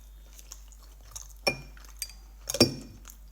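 Glasses clink together in a toast, a few bright, sharp chimes with one louder ring near the end, close up in a quiet room.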